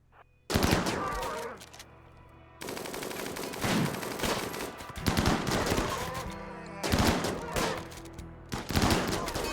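Turret gunfire in RimWorld rattles out in dense, rapid bursts of automatic shots, loud and close, with several separate volleys broken by short gaps and a faint voice underneath.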